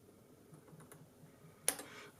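A single sharp snip of side cutters clipping a component lead on a 1930s valve radio under restoration, one crisp click near the end following a few faint taps.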